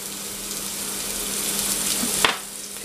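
Celery, garlic and carrots sauté in a pan for minestrone, giving a steady close sizzle with a brief stirring scrape near the end and no talk.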